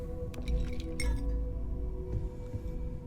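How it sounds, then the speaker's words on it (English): Martini glass clinking in the video game Starfield, a few bright glassy chinks early on over a low steady ambient hum, then a faint later tap. "Martini glass."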